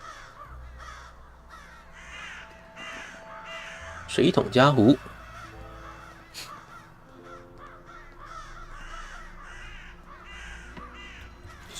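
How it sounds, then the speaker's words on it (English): Crows caw repeatedly in the horror adventure game Saint Kotar, a loud burst of harsh calls standing out over steady background ambience while a person talks throughout. "Crows."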